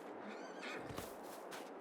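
Horses neigh in Farming Simulator 22, a short, faint whinny with a wavering pitch over a steady background hiss.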